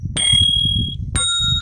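Two bright, ringing bell chimes from a stock sound-effect library, each a sustained metallic tone with a quick attack that rings out over a soft low background hum, the second strike arriving about a second after the first.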